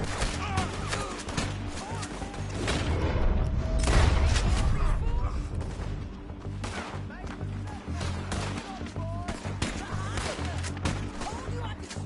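Repeated gunshots and booming shots in a Western gunfight in the video game Red Dead Redemption, with scattered reports over rumbling background, mixed with voices talking.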